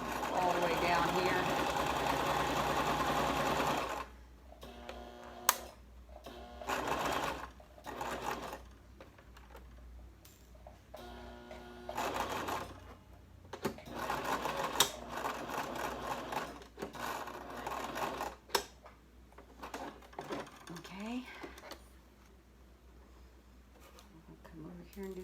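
Sewing machine stitching a medical mask in bursts of rapid mechanical whirring, a long run at the start followed by shorter stop-start runs, with a person talking in between.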